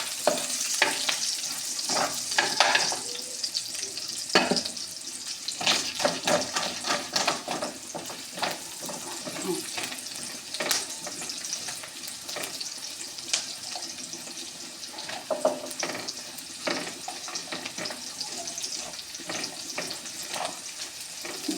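Whole spices, raisins, onion and garlic sizzle and crackle in hot oil in a pan on a gas stove, with continuous frying hiss and occasional stirring scrapes, close and steady, with no talking.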